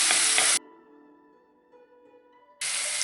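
Garlic frying in a hot pan, a bright steady sizzle that cuts out for about two seconds and then returns just as loud, with no voices.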